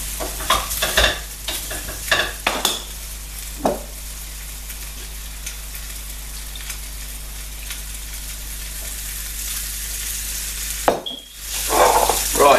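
Lamb shanks sear in a hot pan with a loud, continuous sizzle, broken by stirring scrapes and utensil knocks near the start and again near the end, with no talking.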